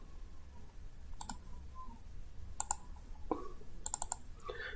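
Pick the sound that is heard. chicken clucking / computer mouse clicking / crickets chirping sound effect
computer mouse clicking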